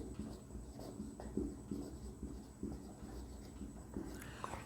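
Marker or chalk writing on a board during a biology lecture, a series of scratchy strokes and taps in irregular rhythm, close and moderately loud, with a steady background hum and no talking.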